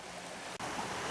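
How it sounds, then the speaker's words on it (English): Frog Creek running hard after thunderstorms, a broad, constant rush of water that fills the whole moment with a brief dip partway through, steady and fairly loud with no voices. "so Frog Creek is flowing strongly"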